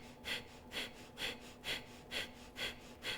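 Forceful exhalations through the nose in a power vinyasa yoga flow, seven sharp puffs at a steady rhythm about every half second, close and fairly quiet with no talking.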